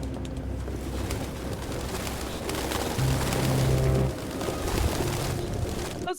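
Pigeons cooing in the video game Detroit: Become Human, soft low repeated coos from several birds close by over a continuous rustling background, one longer coo standing out midway.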